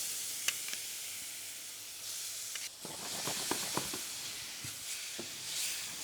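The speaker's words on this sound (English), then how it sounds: "Now I'm going to add in my chopped tomatoes, just a couple of spoons at a time" Chopped tomatoes spooned into a hot pan of spiced leftover roast Bombay potatoes hiss and sizzle steadily, with a few scraping stirs and soft taps against the pan.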